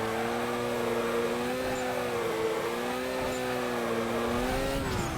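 A Mazda RX-8 drifts in the racing game Need for Speed Carbon, its engine held at a steady high whine with slight pitch wavering, loud and continuous with no talking.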